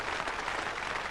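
Cricket crowd at the 1977 Ashes Third Test, fifth day, applauding and cheering England players after their win, a dense, steady patter of clapping that fills the whole moment without a break.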